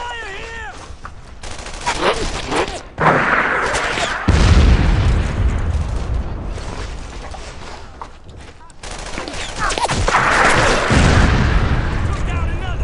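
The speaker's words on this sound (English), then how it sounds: "I'm under some fire here!" Dense bursts of rifle and machine-gun fire mixed with booming explosions in the World War II shooter game Brothers in Arms: Earned in Blood, loud and continuous, with a voice shouting over the battle.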